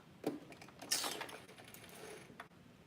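A sewing machine stitches down the layered tiers of a mini skirt, giving short mechanical whirring bursts with ratcheting clicks, close and fairly quiet, no talking.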